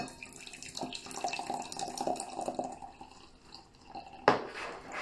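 Brewed tea is poured out during a pour-over session, a soft splashing trickle of liquid running close by with faint clinks and a sharper splash near the end.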